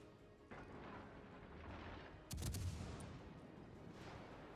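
Naval gunfire from an enemy cruiser in the World of Warships: Legends video game, a rumbling barrage with a sharp burst of shots partway through over a steady low background roar.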